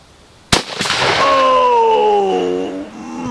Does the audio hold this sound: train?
no